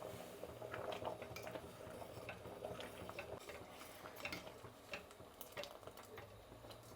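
A spoon stirs cooked dal in a metal pot, scraping and clinking against the sides in an irregular rhythm, close up, with faint watery sloshing and no speech.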